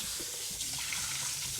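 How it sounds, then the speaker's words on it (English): Tap water running steadily into a sink while parts of a Russell Hobbs 5.7L air fryer are washed, a continuous close hiss and splash with no pauses. "First up, I need to wash the components."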